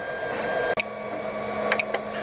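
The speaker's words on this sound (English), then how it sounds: "At this point I'm gonna tell the printer to stop." A Monoprice 3D printer runs with a steady whirring hum and faint tonal whine, broken by a few short mechanical ticks and clicks; close and fairly quiet, with no voices.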